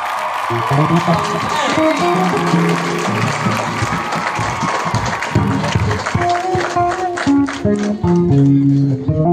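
An audience applauds in a church during a women's group service, with dense, steady clapping and crowd noise alongside singing and amplified voices throughout.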